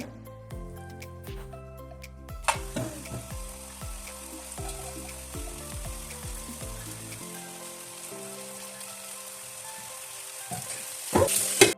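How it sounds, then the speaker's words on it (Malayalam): Chicken pieces frying in oil in a pan in a home kitchen, with garlic added: a steady sizzle builds as pieces drop in, with scattered clinks and scraping of the utensil against the pan, ending in a louder clatter. "ഇനി ഇതിലേക്ക് നമ്മൾ ചിക്കൻ ഓരോന്ന് ഇട്ട് കൊടുത്ത് ഒന്ന് ഫ്രൈ ചെയ്തെടുക്കുകയാണ്"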